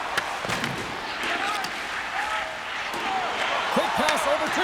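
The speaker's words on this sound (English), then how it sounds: "Boom! Wow, what a thunderous hit there!" A heavy body check thuds in an NHL 26 ice hockey video game match, a sharp impact amid crowd roar and rink noise, with a commentator's voice over it.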